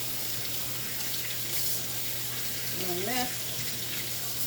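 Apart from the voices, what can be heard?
running tap water while washing hands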